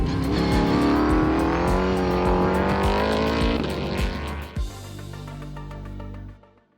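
An S5000 race car engine revs hard, its high-pitched rising wail climbing for several seconds before cutting back into a lower, burbling rattle that fades at the end, heard alone without voices.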